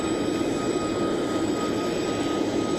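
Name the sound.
Vice President's plane arriving at Maxwell Air Force Base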